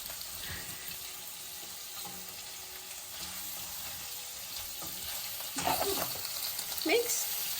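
Oil heating in a pan for pea soup gives a steady, low frying sizzle throughout, with stirring clatter and louder spattering toward the end.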